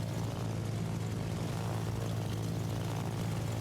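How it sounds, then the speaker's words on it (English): Attack aircraft flying in the naval battle game World of Warships, a steady propeller-engine drone with a continuous low hum and even roar, loud and unbroken throughout, no talking. "Attack aircraft behind you."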